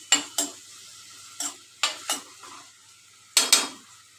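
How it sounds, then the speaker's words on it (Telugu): Sliced onions are stirred in a hot pan while they sauté for a curry. A utensil scrapes and clacks against the pan in sharp, irregular strokes, close and alone with no voices. "కొంచెం ఎర్రగా అయ్యేంత వరకు కొంచెం కలుపుదాం."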